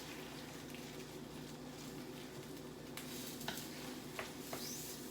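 A one-pot meal stirred in a pan, soft scraping and faint sizzling running steadily, with a few brief sharper clinks near the end.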